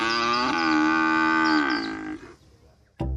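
A cow moos in one long, loud, close bellow lasting over two seconds, then fades out, followed by a brief sharp knock at the end.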